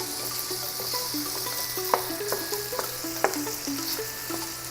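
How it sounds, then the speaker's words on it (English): Chicken thighs sauté in a pan of butter and olive oil with onion and garlic, giving a steady close sizzle with scattered crackles and a few sharp pops, with no talking. "we put the chicken in, little thighs that they're nicely prepared for us. To saute for a few minutes"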